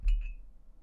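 A glass bottle stopper on a Ransom bourbon whiskey bottle gives a single close, bright clink with a short ringing tail.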